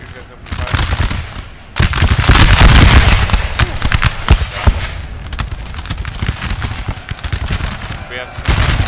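Musket volleys crash out in Napoleon: Total War, a loud dense roll of gunfire followed by continued scattered sharp cracks, with battle noise throughout and a voice speaking underneath.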